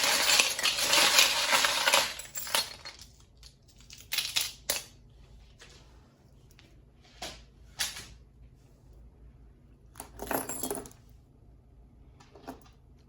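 Divination charms shaken and drawn by hand: a loud rattling jumble of small hard pieces for about two seconds, then scattered clicks and clinks as pieces are picked out, with no talking.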